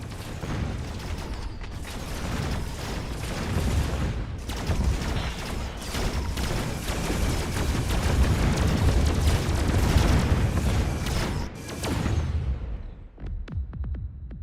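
Missiles launch and detonate in a strategy video game, with dense rumbling booms and mechanical whooshes layered continuously and loudly, building toward a peak before tapering off near the end.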